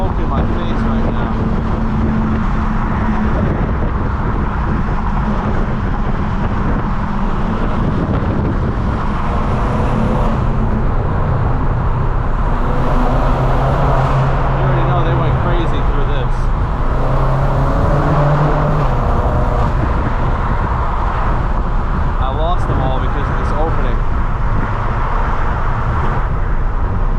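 A BMW's engine drones steadily while wind roars past on a drive through a tunnel, the loud rushing noise continuous throughout with a voice shouting over it.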